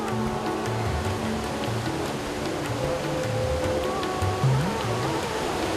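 River water rushes loudly and continuously through a valley in Laos, a steady broadband roar with faint tonal sounds over it.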